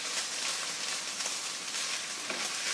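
Shirataki konjac noodles frying in a pan, a soft steady hiss of sizzling with faint crackles, quiet and unbroken throughout.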